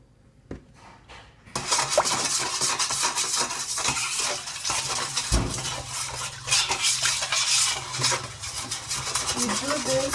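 A honey mixture for chapatis is stirred in a bowl, a utensil scraping and clinking busily against the sides for several seconds after a quiet start, close and continuous.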